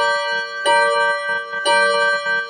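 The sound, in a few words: Seiko wall clock chiming the hour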